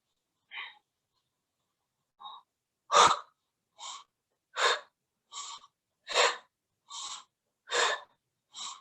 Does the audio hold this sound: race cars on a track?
no